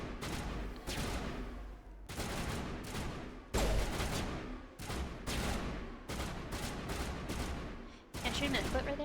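Sustained gunfire in the Mass Effect video game comes in repeated heavy bursts of a second or two, separated by short gaps, loud and dense throughout, with some talk mixed in.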